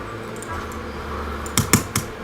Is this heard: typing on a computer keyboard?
yes